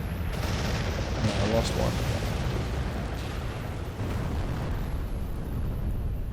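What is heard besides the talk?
city bombing explosions from a video game, ICBM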